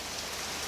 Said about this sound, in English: we're gonna be rained off for the foreseeable